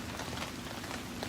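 Light drizzle on a dreary day, a soft, steady, faint patter of raindrops on a surface with no other sounds.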